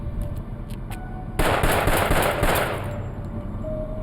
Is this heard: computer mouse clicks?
no